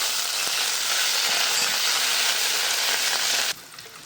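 Ginger and garlic hit hot oil with fenugreek seeds, giving a loud, steady sizzle and fry that runs without a break and drops away abruptly near the end.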